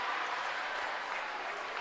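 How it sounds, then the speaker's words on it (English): A basketball crowd at a South Dakota Class B girls' state game, Centerville against Bennett County, cheers and applauds in a steady, fairly distant wash of noise. "The Centerville crowd originally stood up in anger, quickly turned to cheer."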